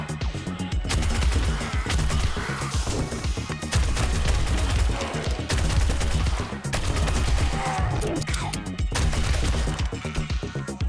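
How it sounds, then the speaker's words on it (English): Sustained automatic SMG fire in the zombie survival game 7 Days To Die, rapid rhythmic bursts running nearly continuously and loud, with brief pauses between strings of shots. "One quick shot with a crossbow and then we'll switch over to our SMG and give that a first good test"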